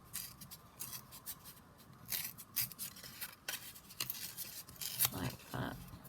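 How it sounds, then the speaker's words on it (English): Buff coloured card being torn by hand, heard as a run of close, crisp ripping and rustling bursts of varying length, some longer tears toward the end. "let's just tear this"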